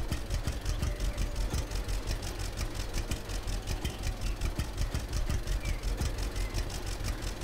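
A tractor engine runs in the Lumberjack's Dynasty video game, a steady, close, rhythmic diesel chug with a regular knocking pulse holding constant throughout.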